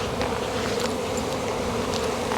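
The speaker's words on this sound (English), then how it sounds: "I have to step out of the apiary. I have a bee in my bonnet." A dense, steady drone of many bees swarming around hives in an apiary, loud and close, holding a constant buzz throughout without speech.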